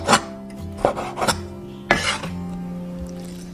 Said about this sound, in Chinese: 另一块鸡胸肉给小孩子做鸡米花，先给它切条，然后切成一个小正方形的形状。